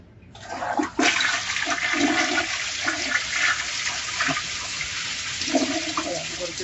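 A dual-flush toilet flushed on its large button lets out a sudden loud rush of water that settles into a long, steady draining roar.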